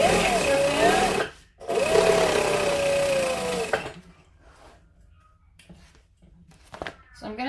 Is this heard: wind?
no